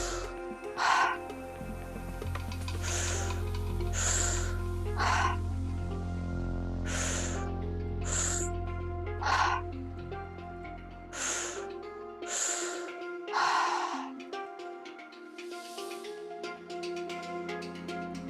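Breathwork breathing in a guided session: repeated deep inhales filling belly then chest, each followed by an audible exhale, steady rhythmic cycles close to the mic over a low sustained musical drone.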